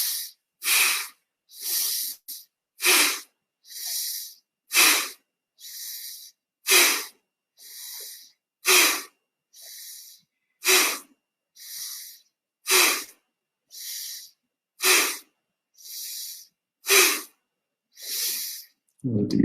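Deep breathing exercise with slow, rhythmic inhales and forceful exhales, about a dozen and a half loud, airy breaths spaced evenly and close to the microphone, with brief quiet gaps between them.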